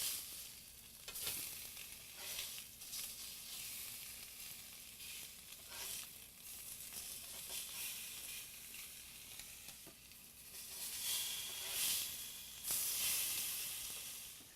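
Tilapia fillet sizzling steadily on a grill just after being flipped, a continuous close hiss and crackle with a few brighter pops and a louder surge near the end, no voices.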